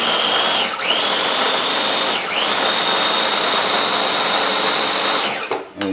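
Kitchen blender whirring loudly as it purées blueberries and chillies for a sauce, a steady high motor whine that dips briefly twice as the load shifts, then winds down at the end.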